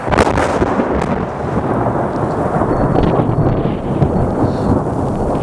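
Thunder from a lightning strike over a burned forest of Douglas fir and pine rolls as a loud, deep, continuous rumble that lasts several seconds, heard alone.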